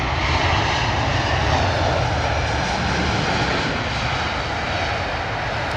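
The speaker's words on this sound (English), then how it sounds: "British Airways A320 coming in from Oslo" A British Airways A320 from Oslo lands at London Heathrow, its engines producing a loud, steady roar that holds evenly throughout with no voices.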